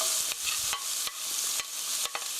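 Onion, green onion and garlic stir-frying in a pan over medium heat for a hamburger rice bowl sauce, a steady close sizzle broken by a handful of sharp scraping stirs at irregular intervals, with no talking.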